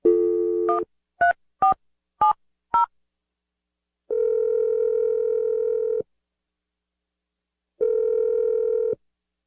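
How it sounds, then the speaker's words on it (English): A telephone dial tone plays, then a quick run of five separate keypad tones as a number is dialed, followed by two long steady ringback tones separated by a pause, heard alone with no voices. "I'm going to dial the number."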